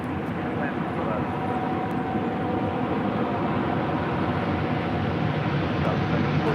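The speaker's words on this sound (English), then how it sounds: "Super Airbus 380 short final, runway 24 left, clear to land" An Airbus A380 on short final to runway 24 left at LAX gives off a steady, broad engine roar that holds at a constant loudness throughout, with faint voices underneath.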